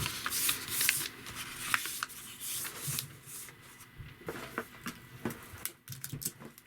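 Paper being folded and creased by hand while building a DIY remote-controlled airplane, with close, irregular crinkling and rustling bursts separated by brief pauses.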